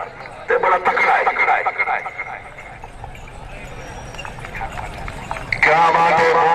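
Horse galloping in a tent pegging (neza baazi) contest at a village festival in Kharian, Gujrat, with hoofbeats under a loud crowd and a commentator talking over a PA throughout.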